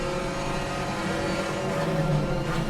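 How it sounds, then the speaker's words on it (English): A Porsche flat-six roars steadily and loudly through a GT4 endurance race in a racing video game, a dense continuous engine drone with a slight swell near the end and no voices. "If you can hear me over the deafening sounds of that Porsche's flat 6"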